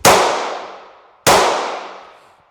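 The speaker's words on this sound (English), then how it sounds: "So we'll shoot this one real quick because I hate making gun videos without shooting guns" Two sharp, loud gunshots from a small, light .45 pistol, spaced just over a second apart, each with a sudden crack and a long fading ring.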